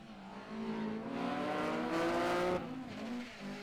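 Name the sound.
BMW Compact rally car on stage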